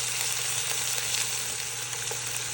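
A burger patty sizzles steadily in a hot pan while a slice of cheese melts on top, giving a constant, close, even frying hiss with no voices.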